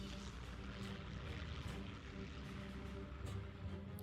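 Propeller-driven bomber aircraft in the strategy game Hearts of Iron 3 drone steadily, a dense, continuous engine roar with a low throbbing hum that holds level for the whole stretch, without any talking.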